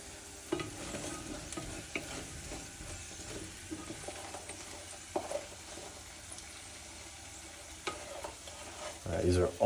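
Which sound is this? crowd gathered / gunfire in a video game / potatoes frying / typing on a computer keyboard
potatoes frying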